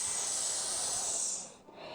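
A person imitates an angry cat's hiss with one long, breathy, sustained exhale that stays steady and close, then fades out near the end.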